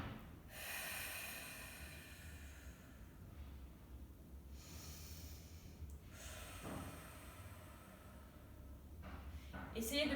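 Heavy exhaled blowing through the mouth during a home strength-training set, several long huffs and inhales in a rhythmic pattern, close and fairly loud, with a voice speaking over part of it.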